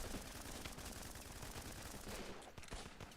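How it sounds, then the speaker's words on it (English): Dense, continuous barrage from a 120mm artillery stratagem in a video game, overlapping booms and crackling impacts filling the whole stretch at steady loudness, rough and distant-sounding, no talk. "Ah, the 120mm artillery."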